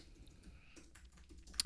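Quiet typing on a computer keyboard, a soft run of irregular key clicks close by, ending in one slightly sharper tap.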